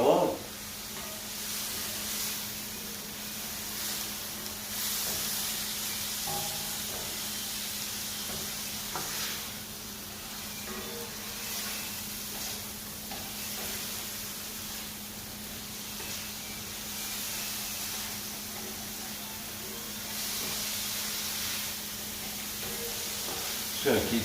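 Mushrooms in butter sauce sizzle steadily in a hot pan while being stirred, a continuous close frying hiss with soft scraping that runs alone throughout.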